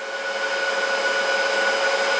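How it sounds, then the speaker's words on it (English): A household vacuum cleaner runs steadily with a loud, constant whining drone and a strong tonal hum that holds unchanged throughout, with no talking. "This vacuum draws more than a few of my mining rigs."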